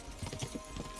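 Horse hooves clip-clopping in Kingdom Come: Deliverance 2, a quick run of soft, muffled beats over a low background rumble, heard briefly and at moderate distance.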